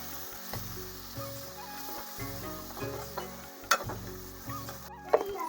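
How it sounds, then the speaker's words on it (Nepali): Steady sizzling of spiced mutton frying in a pan, with occasional louder clinks and scrapes of a utensil stirring, no voices. "टक्क लगाएर यसलाई भुट्ने।"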